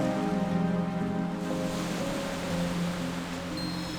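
Ocean waves washing over sand in The War Within, a soft steady surf wash beneath a sustained ambient musical drone, with no clear separate wave breaks.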